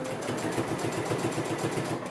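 A sewing machine stitches slowly through quilt binding, its needle pulsing in an even, close, mechanical rhythm with no voices.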